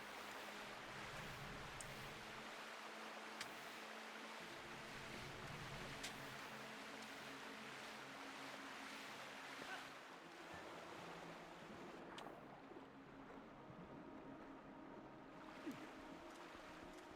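Water rushes along a water slide in the Lanayru region of Twilight Princess, a steady, fairly loud whooshing flow like surf that holds throughout, with a few faint clicks on top and no talking.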